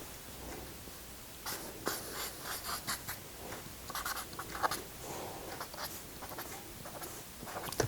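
Marker or chalk writing values on a board: faint, close scratchy strokes in irregular short bursts, quiet throughout with no talking.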